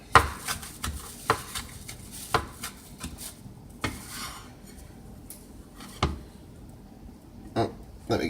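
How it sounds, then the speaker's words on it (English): A knife chops a bunch of parsley on a cutting board. Sharp knocks come at an uneven pace, sometimes in quick pairs, close by and moderately loud. "You don't need it really finely chopped up, but you want it to be chopped up at least a little bit"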